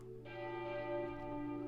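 Church bells chime in a steady, sustained peal, their rich overlapping tones ringing out loudly and continuously with no voices present.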